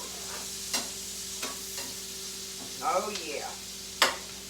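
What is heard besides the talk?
onions cooking in a hot skillet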